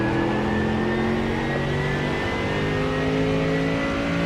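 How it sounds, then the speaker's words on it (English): Mercedes GT3 race car engine in a sim racing game at Watkins Glen, a steady loud droning whine holding near-constant pitch with slight rises, continuous and close with no talk over it. "we're doing 10 laps around Watkins Glen in the Merc GT3 car"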